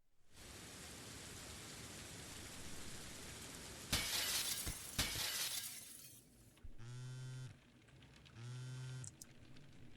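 Plate glass window smashing in the stealth game Gunpoint, a sudden bright crash with a few scattered shard hits after it, set against steady rain-like background noise and followed by soft synth tones.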